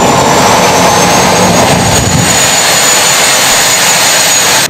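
A locally built jet engine running on compressed air and fuel roars loudly and steadily at close range, a dense unbroken blast with a high whine on top, no voices.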